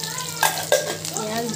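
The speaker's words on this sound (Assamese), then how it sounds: "তাৰপিছত পিঁয়াজটো দিয়া হৈছে" Chopped onion sizzles in hot oil in a pan while it is stirred, giving a steady close hiss with a couple of brief scraping knocks and a faint voice underneath.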